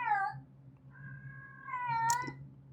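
Two pet black cats meow in a home, a short cry followed by a longer, drawn-out wavering meow ending in a sharp squeak, close and clear over a low steady room hum.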